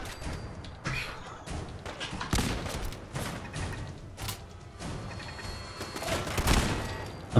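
Mark 1 turret fire in Fallout 4 comes as repeated bursts and thuds scattered through the scene, fairly loud and busy, with no clear talk over it.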